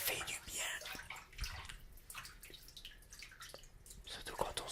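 Water runs and drips close to the microphone, with scattered splashes and trickles in a quiet room while a soft whispering voice talks intermittently.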